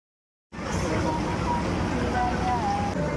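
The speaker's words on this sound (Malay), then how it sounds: "Ada yang tolong tahan angin." Strong outdoor wind buffeting a microphone, a loud continuous rumbling roar that starts suddenly and holds steady throughout, with faint voices buried underneath.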